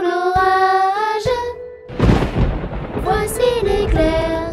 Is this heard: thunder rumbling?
yes